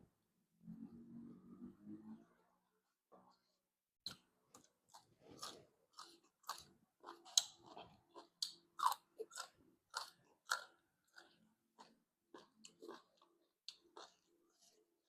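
Close, moist chewing of larb, a spicy minced-meat salad, with soft crunches and wet smacking bites repeating irregularly after a brief low rumble at the start.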